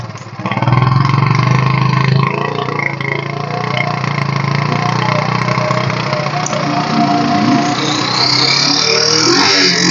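A 2005 Bajaj Crux motorcycle engine starts after a brief pause, then runs loud and close, with a steady rough idle and a rise in revs near the end.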